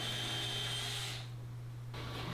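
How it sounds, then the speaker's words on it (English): A power drill pre-drilling screw holes into a board during a shop storage build, a steady loud whir that drops off midway, then resumes briefly, with a constant low hum throughout. "And then I'll just pre-drill my holes and then put some screws in to fasten this"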